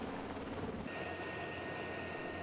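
A military helicopter hovers during a fast-rope insertion, its steady rotor and engine roar filling the air with a continuous broadband wash and a high turbine whine, with no voices.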